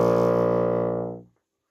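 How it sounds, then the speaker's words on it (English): Bassoon sounding its lowest note, low B flat, with all holes closed: a rich, buzzy sustained low tone, close and full, fading away after about a second. "when I close all of the holes on the bassoon, I play my lowest note, a low B flat"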